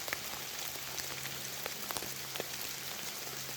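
Rain falls steadily through Pacific Northwest woods, a continuous even hiss dotted with scattered close drips, with no voices.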